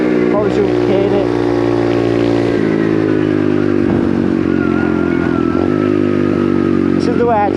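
A small 125cc pit bike's engine revs hard and loud up close, its pitch climbing and falling through several throttle blips, with a rider's voice briefly audible over it.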